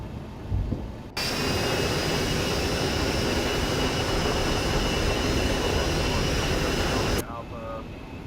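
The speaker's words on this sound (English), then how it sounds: "All right, gear's coming down." Landing gear extends on an Embraer ERJ145 in X-Plane 12, bringing a sudden loud, steady rushing roar with a faint whine that holds for about six seconds, then cuts off sharply into quieter cockpit hum.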